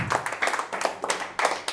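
A church congregation applauding for Jesus, fairly close, in several rhythmic waves of hand claps with no voices over them.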